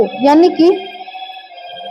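A telephone rings with a steady electronic tone that continues after a teacher's voice in a classroom lecture stops, the ring carrying alone through the second half.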